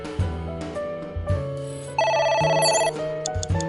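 A telephone rings in the video game Ai The Somnium Files, a bright electronic trill that comes in bursts over low, droning background music, with no speech.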